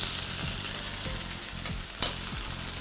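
Bean shoots sizzle and crackle in hot oil, a steady close frying hiss with a few stirring clanks and one brief sharp pop, no voices.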